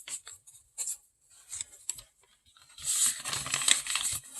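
Paper folded and creased for an origami chair, soft scattered rustles giving way to a louder sustained crinkling and rubbing, close and without voices.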